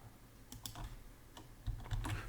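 Computer keyboard keys tapped in short irregular bursts, clicks clustering into quick runs with brief pauses, close and moderately loud in a quiet room.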